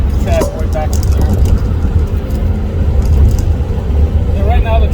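A car hums steadily along in traffic as it shifts lanes, its low engine and road rumble constant throughout, with someone talking over it.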